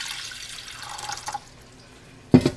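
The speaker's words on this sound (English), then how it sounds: "I am going to add water in this pan" Water runs softly into a pan for about a second and a half, fairly faint, then stops; a brief, louder splash or knock follows near the end.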